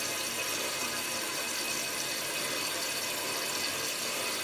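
Water rushes through a freshly cleaned drain in a steady, loud, close broadband roar that holds level throughout, with no voices.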